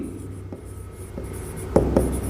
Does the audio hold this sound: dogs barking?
no